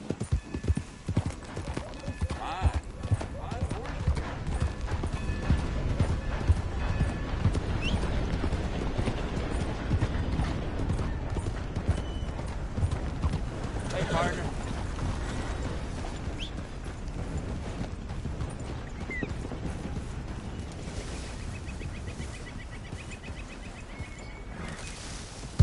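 A horse's hooves clip-clop in a steady, continuous rhythm for a long stretch, with a brief whinny and other mechanical and rumbling background noise mixed in.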